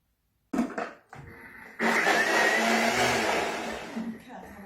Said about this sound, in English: And give it another blend.